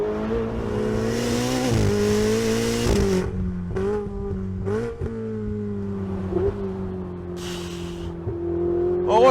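A Ferrari 488 engine drones steadily at close range while overtaking a minivan, its pitch climbing and dipping through gear changes, with a few short bumps and a brief hiss of wind.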